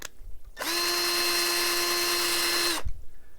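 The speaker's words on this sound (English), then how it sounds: "It just drilled the head of the screw out even more" A power drill spinning into a screw head, drilling it out, loud and close: one sustained whining run of about two seconds that starts and stops abruptly, with quiet pauses either side.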